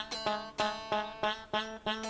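A guitar note plucked about six times in an even rhythm, each pluck carrying a slight buzzy rattle from a string not pressed hard enough against the fret, rather than ringing clean.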